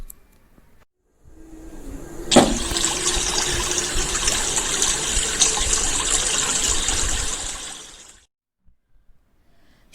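Water splashes and gushes steadily for about six seconds as a prince bathes, with a sharper splash near the start, then cuts off into quiet. It serves as a narrated-story sound effect.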